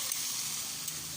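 Tomatoes sizzle and fry steadily in a hot pan while an egg dish is prepared, a dense, even crackle at close range with no talking over it.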